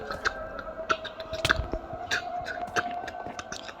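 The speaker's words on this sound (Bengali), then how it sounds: "খেয়ে নিই তাড়াতাড়ি।" Squishy chewing and biting sounds from a character eating food in a survival video game, repeating in quick bursts over a steady game background hum.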